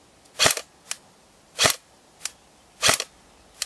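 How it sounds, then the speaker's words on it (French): An airsoft sniper rifle fitted with an M4 hop-up fires three sharp, snappy shots at an even pace, each followed by a fainter click, heard close up with no talking. "Donc on commence à faire ces tirs"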